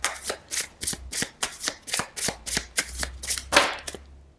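Tarot or playing cards being shuffled in a rapid series of crisp riffling snaps, about a dozen quick bursts close to the microphone, ending in one louder flurry, with no talking.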